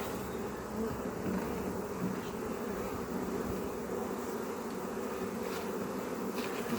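A surprise bee swarm in a garden gives off a dense, continuous buzzing drone, close and steady throughout, with no talking.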